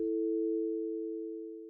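A steady telephone dial tone hums alone after a call is hung up, a single continuous pure tone that fades slightly over a couple of seconds with nothing else heard.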